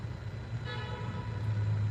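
Car horns honk inside a road tunnel, one long sustained toot rising over the steady rumble of traffic, with the echoing drone of vehicles underneath.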